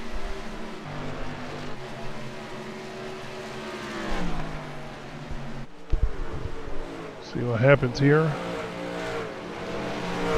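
Race trucks at Darlington in the SERL Truck Series crossing the start-finish line: engines drone and rise in pitch as they pass, with a sharp roaring pass-by near the end, under a commentator's steady talk.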